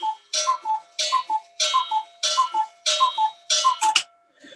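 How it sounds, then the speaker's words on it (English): A cuckoo clock strikes with a regular series of paired two-note cuckoo calls, each with a whirring bellows hiss, about five repeats sounding clearly and alone. "I'll just let the cuckoo clock finish."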